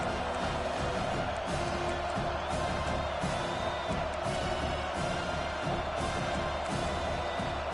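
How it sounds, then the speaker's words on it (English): Stadium home crowd in a video game football match, a dense continuous roar of cheering kept at a steady level throughout, with a voice faintly mixed in. "Man, this crowd really affecting the football game."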